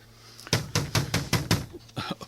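Rapid knocking on a wooden door, about six firm, evenly spaced raps followed by a few softer ones, close and loud in an otherwise quiet room.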